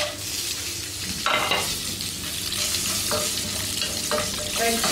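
Deseeded red chillies fry in hot oil, a loud, close, continuous sizzle with scattered stirring scrapes and clinks of a utensil against the pan, and no voices.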